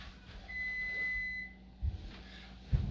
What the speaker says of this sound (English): Hold on, the timer's going off.